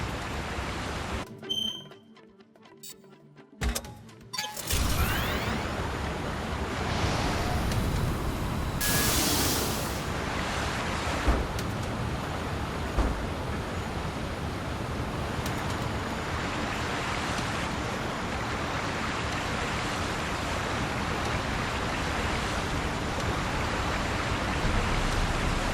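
A rushing waterfall in the video game Sandland, a steady broadband roar that fills the scene at close range after a few seconds of quieter ambience and clicks.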